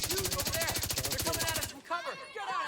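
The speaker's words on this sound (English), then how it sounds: "Are you the one shooting right now?" Rapid automatic gunfire from the Division 2 video game rattles in a fast, steady burst for over a second, then cuts off, leaving voices talking over quieter game sounds.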